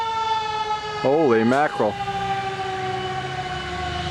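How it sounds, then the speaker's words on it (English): Fire engine siren wailing on a street on Halloween night, a steady tone persisting in the distance while a voice breaks in loudly partway through. "Sounds like a fire engine coming."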